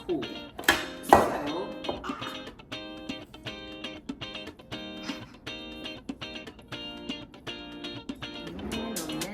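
Metal clinks and scrapes ring out from pots and pans as sticky rice crispy treat mixture is moved into a pot, a steady run of bright, chiming taps, some louder knocks early on, with a voice briefly speaking.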